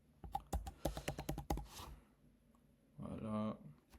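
Quick bursts of typing on a computer keyboard, a rapid run of close clicks followed by a pause, then a short burst of voice toward the end.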